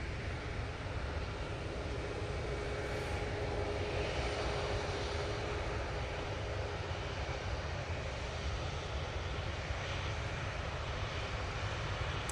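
An airliner departing Manchester Airport for Malta gives a steady, loud roar of jet engines that holds evenly throughout, broad and rushing, heard from a distance with no talk.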